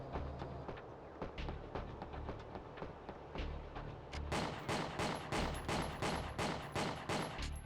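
Repeated weapon fire from a player's robot in a retro video game, fired while moving, a steady run of sharp shots over a low rumbling bed that grows louder and denser partway through.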